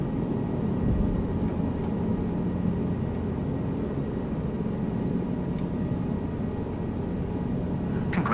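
A helicopter in the flight simulator Microsoft Flight Simulator 2024 settles from a hover onto the ground, its steady rotor and turbine drone filling the cabin at an even, moderate level throughout, with no talk.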